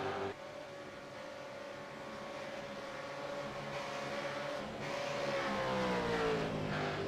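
A race car engine from a sim racing endurance race at Willow Springs holds a steady, high whining drone that rises and falls gently through gear and throttle changes, heard alone at a moderate level.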